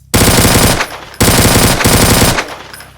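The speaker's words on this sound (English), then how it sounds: "Slot 3 is a submachine gun" A submachine gun in the Alpha Division 3.0 video game fires two loud, rapid full-auto bursts, each under a second long, close and punchy, with a brief pause between them and a short tail after each.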